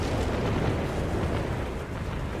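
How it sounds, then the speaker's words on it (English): Dense, continuous artillery explosions roll and rumble from recon artillery in the real-time strategy game Company of Heroes, a loud, sustained barrage of overlapping booms with no pauses. "the recon artillery is being used well"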